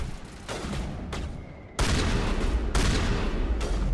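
Shotgun blasts in Mass Effect Legendary Edition, several loud booming shots spaced irregularly amid combat, each with a sharp attack and lingering rumble, no talk over them.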